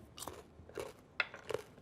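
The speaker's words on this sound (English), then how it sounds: "Wow, this bacon is really good. It's a really satisfying crunch." Crisp bites and chews into crunchy, smoky, fatty bacon crumbled for a Cobb salad, four close crackling crunches spaced roughly half a second apart, sharp and near with no talking.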